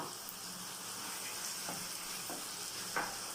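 Chicken pieces sizzle in a frying pan with softened tomatoes for pinakbet, a steady crackling fry with a few light stirring scrapes and a small clunk near the end, no talking.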